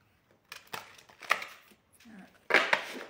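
Oracle cards being shuffled by hand: a series of soft slaps and riffling flicks in uneven bursts, with a brief pause and then two crisp louder snaps toward the end.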